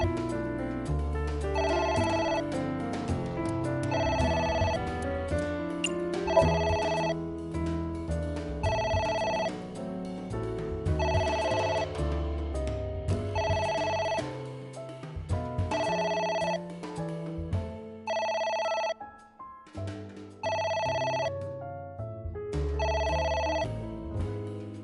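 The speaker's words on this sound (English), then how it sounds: "It's ringing again. What should I do?" A telephone rings in the video game AI: The Somnium Files, repeating bright ring bursts at a steady interval over a low musical backing, pausing briefly near the end before resuming.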